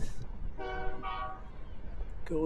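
A train horn sounds in short bursts, one after another, beside a college women's soccer match, with a passing train rumbling in the background.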